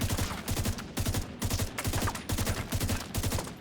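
Rapid automatic rifle fire in a video game, loud and close, bursts of sharp shots rattling in quick rhythm with brief gaps between strings, no talking over it.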